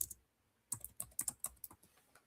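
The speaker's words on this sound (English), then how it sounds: "I'm typing it now." Rapid, uneven keystrokes on a computer keyboard in a quiet room, a brief tap at the start, then a close burst of clacks after a short pause.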